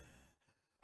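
A voice imitates a drunk man's heavy breathing: one short, loud, breathy exhale like a sigh, rising abruptly from near quiet, with no words spoken.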